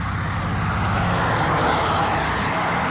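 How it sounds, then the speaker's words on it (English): Loud, steady road traffic roars close by, a continuous dense rush of car engines and tyre noise with no pauses. "This road is loud."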